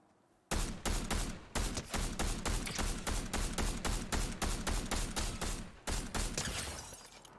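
Rapid gunfire from a weapon in Fortnite, a long burst of evenly spaced loud shots in quick rhythm, briefly pausing near the end before a few more rounds, with no talking.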